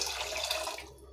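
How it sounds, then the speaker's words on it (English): Tap water pours steadily into a cooking pot, a brief rushing splash that cuts off abruptly near the end. "I will fill it with water"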